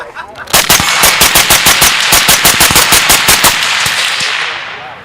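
A handgun fires rapidly with a two-handed grip, a loud close string of about fifteen sharp shots in quick even succession, then the sound rings off into the open air.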